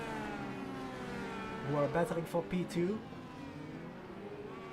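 IndyCar race cars in iRacing at Long Beach drone steadily, their engine tones sustained and rising like a whine through the whole stretch while a commentator talks briefly over them.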